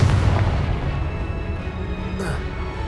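Blasting spell explosions from the video game Hogwarts Legacy, a dense run of loud booming bursts with a heavy low rumble that fills the whole stretch.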